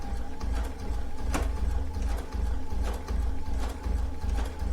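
A sewing machine stitches a rag quilt with a continuous low mechanical whir and rhythmic ticking of the needle, steady and close, pausing briefly now and then as the fabric feeds through.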